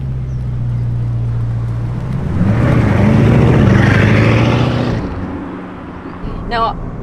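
Bugatti Chiron engine pulling hard under acceleration: a loud, rising roar that swells and then drops away, with someone talking over it.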